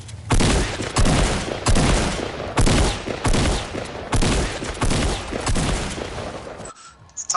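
Loud, rapid gunfire from the video game Fortnite, a dense fusillade of repeated bursts in regular pulses that runs almost continuously before cutting off abruptly near the end.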